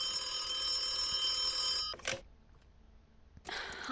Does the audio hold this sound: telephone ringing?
yes